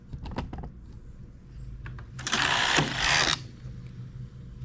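A flatbed knitting machine carriage works a seamless sock in the round, alternating rows between the main bed and the ribber, giving a close burst of mechanical clatter and a sustained whooshing rasp after a few short clicks.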